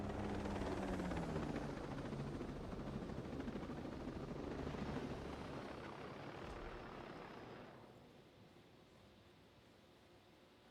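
A helicopter in Ghost Recon Breakpoint drones loudly with a dense rotor and engine roar, then fades out over the last few seconds, leaving quiet ambience.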